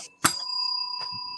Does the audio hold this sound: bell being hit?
yes